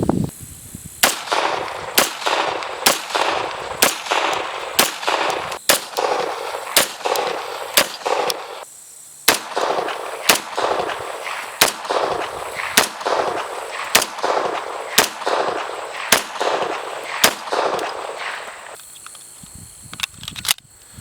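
Taurus PT1911 .45 ACP pistol firing Remington hollow points at an outdoor range, roughly twenty sharp, loud shots in a steady, evenly spaced rhythm with a brief pause midway, no talking.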